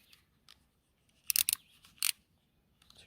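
A box cutter blade slicing through dried glue on the connectors of a car ambient lighting strip: a few short, sharp scraping crunches in quick bursts, close and quiet against near silence.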